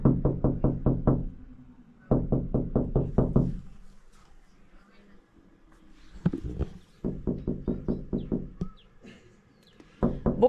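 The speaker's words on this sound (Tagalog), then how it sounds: "Dito na ako kumatok sa bintana." Rapid knocking on a house window in bursts of six to eight quick raps, close and loud, separated by short quiet pauses and some faint background sounds.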